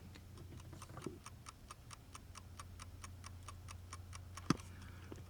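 A restored analog clock in a 1969 Mercedes 280SE ticks quickly and steadily, close and quiet over a faint low hum, with one sharp knock near the end.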